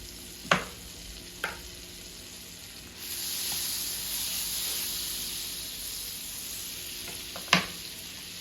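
Butter melting in a pan before eggs go in, partway through making a breakfast of sausage, grits and eggs: a soft, steady sizzle that swells after a few seconds, broken by a few sharp clacks of utensils nearby.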